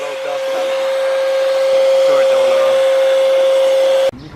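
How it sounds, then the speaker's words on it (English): A shop vacuum switched to blow mode while changing the fuel pump on a 1984 Corvette gives a loud, steady motor whine with a strong constant tone for about four seconds, then cuts off abruptly. "the shop vac to the blow instead of suck"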